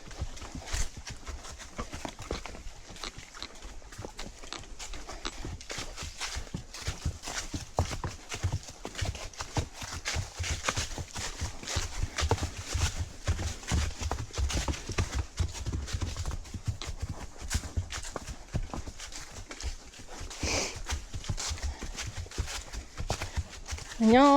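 Hooves of a horse named Tuck clip-clop steadily at a walk on a rough trail ride, close and continuous, with a rider occasionally speaking over the rhythmic footfalls.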